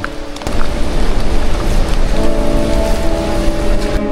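A tall waterfall seen from a viewing deck high in the mountains, close to 3,000 meters up, gives a steady, loud, broadband rush of falling water that stays continuous and unbroken throughout.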